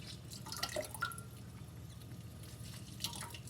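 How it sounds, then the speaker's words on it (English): Lemon juice dripping into a cup of lemon balm tea, a few light drips and splashes scattered over a quiet background, faint and close. "I'm going to put in some lemon juice"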